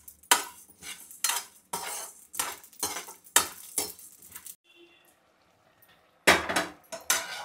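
Poppy seeds and cashews are dry-roasted in a pan and stirred with a utensil, giving rhythmic scraping and clinking strokes against the metal. A brief quiet pause with a faint sizzle comes before the brisk stirring resumes.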